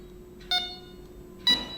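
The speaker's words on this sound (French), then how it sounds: "Là, il n'y a plus rien, il n'y a que le signal sonore" Two short electronic beep tones from a Carpsounder AGEone carp fishing bite alarm, spaced about a second apart, each clear and fairly bright over a quiet, steady hum.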